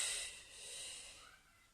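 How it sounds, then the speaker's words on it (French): A soft breathy exhale with a brief hiss at the start, faint and close, made during a Pilates exercise with a stick held in outstretched arms. "Et j'expire."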